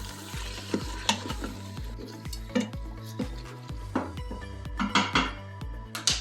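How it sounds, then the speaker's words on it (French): Ground beef browning in an Instant Pot on the sauté setting: steady sizzling with repeated scraping and stirring strokes of a utensil against the metal pot, loud and close, with no talk. "vous mettez l'Instapot à sauter et vous faites brunir la viande"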